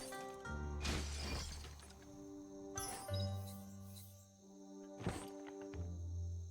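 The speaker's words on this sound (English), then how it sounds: "You shouldn't worry about smashing up the box" A wooden box smashed in the video game Biomutant, with a few sharp crashing breaks landing over steady game music and tonal background hum.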